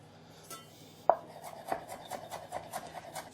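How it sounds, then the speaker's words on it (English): Knife chopping parsley on a board for a spring tart filling: a single sharp chop, then a run of quick, fairly even cuts, close and soft, with no talk. "We're going to take a little bit of chopped parsley."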